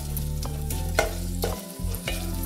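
Cardamom, pepper, cashews and bay leaf fry in hot desi ghee for palua kheer. The oil sizzles steadily and close up, broken by repeated scraping stirs of a spoon in the pan.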